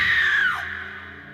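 A single shrill scream sound effect from the Alan Wake DLC game, loud at the start and sliding downward in pitch before fading out over about a second, with no talking.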